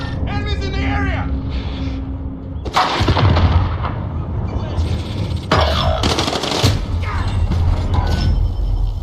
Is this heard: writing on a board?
no